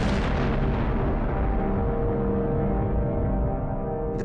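A massive, deep Big Bang explosion rumbles at full loudness with no other sound, its broad roar sustained for the whole span and its highs slowly fading while the low boom carries on.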